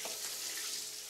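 Shower water running steadily while a young granddaughter is bathed, a soft continuous hiss of spray close by with no break across the short stretch.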